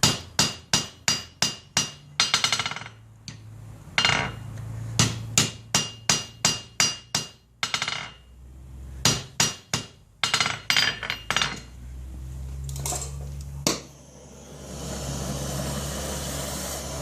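A hammer forging a silver bar on an anvil to draw out one section, striking in sharp, ringing bursts of rapid blows separated by short pauses, close and loud, with a steady background hiss, likely a gas torch.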